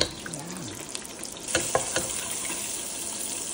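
Onion and garlic sautéing in butter in a pan, a steady low sizzle with a few scraping stirs and clinks partway through.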